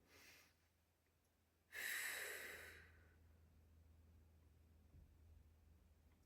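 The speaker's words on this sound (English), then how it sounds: "Breathing." Slow, audible breaths during a gentle yoga class: a soft inhale, then a louder, longer airy exhale that fades gradually, followed by quiet room tone.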